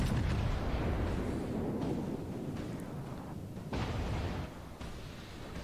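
Cruiser gunfire and shells striking in World of Warships, as the battleship Richelieu takes hits: heavy, continuous rumbling booms and blasts that roll together, loud and dense, with no voices.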